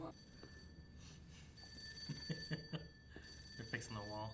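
A telephone rings in the Batman animated series, a steady electronic bell tone with repeated bursts heard under ongoing dialogue and background score.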